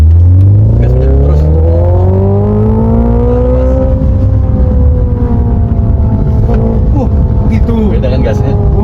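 A Hyundai Ioniq 5 N accelerating hard on a toll road, its synthetic engine note rising steadily in pitch for several seconds, loud and close inside the cabin with a rumbling drone underneath.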